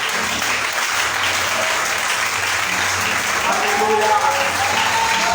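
Congregation at a Sunday church service giving a sustained ovation to the Lord, with dense steady applause throughout and voices calling out over it.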